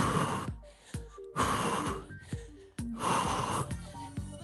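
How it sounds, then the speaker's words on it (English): Heavy, forceful exhales during a cardio workout, three loud breathy bursts about a second apart, each one close and strong. "Concentrate on your exhale."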